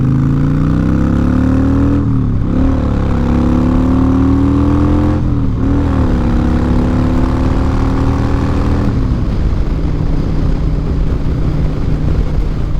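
A motorcycle engine, ridden along Route 1, drones loudly and steadily close up, its pitch rising and dipping with two brief gear-change lulls before settling into a rougher, lower rumble.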